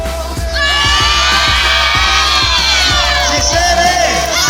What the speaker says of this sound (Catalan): l'últim crit de guerra de 6è A